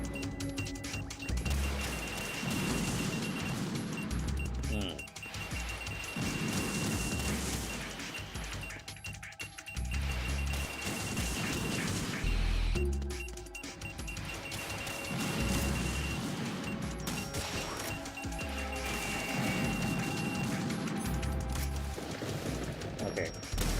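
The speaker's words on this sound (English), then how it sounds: "But now the missile salvo begins." A missile salvo in the video game Metal Gear Brawlid 2 comes as a long, dense barrage of rapid explosive bursts and rattling impacts, under intermittent voices talking.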